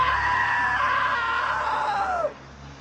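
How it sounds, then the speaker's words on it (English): A long sustained scream in the video game What Remains of Edith Finch, loud and close, holding a wavering pitch for about two seconds before sliding downward and cutting off, no other voices. "Now that was a great scream."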